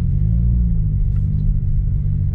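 2016 Subaru WRX fitted with a Remark axle-back exhaust cruising slowly, producing a steady, deep low rumble from inside the car with no talking.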